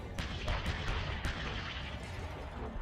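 Bradley Bushmaster autocannon fires a rapid burst at a Russian armored personnel carrier, sharp cracks repeating in quick succession over a dense rumbling din of combat.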